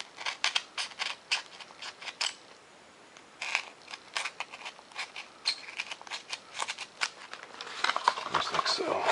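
Scissors cutting out printed paper plans for a Fokker DR-1 Red Baron model plane, a close, steady series of crisp snipping strokes in quick bursts with brief pauses between them.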